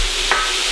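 Ground beef hamburger fries in a pan as its grease renders out, giving a steady close sizzle with one brief soft scrape midway and no voices.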